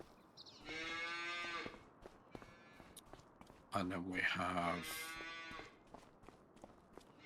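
Cows mooing inside a big cow shed in a farming video game: two long, loud moos separated by a pause, with someone speaking briefly between them and faint footsteps in the background.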